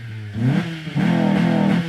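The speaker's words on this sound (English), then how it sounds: "Rev that mother." A car engine, running on an automatic transmission, revs up hard twice in quick succession, close and loud, with no talking over it.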